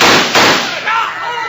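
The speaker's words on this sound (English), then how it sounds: "a group of strange riders stormed up and started shooting" Gunfire from strange riders storming up in a 1952 Wild Bill Hickok western radio drama: a couple of loud, harsh cracks over a noisy, compressed broadcast-style background.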